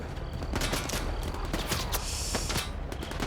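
Gunfire in a first-person shooter while sniping: a rapid series of sharp, loud cracks and reports fires close together over a dense, noisy battle backdrop.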